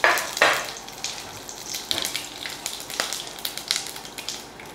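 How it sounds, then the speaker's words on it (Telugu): Masala spices sizzle and crackle as they hit hot oil in a pan for chana biryani, with a loud burst at the start and then steady close frying hiss broken by stirring clatter. "ఇదిగోండి, మసాలాలన్నీ వేసేస్తున్నా."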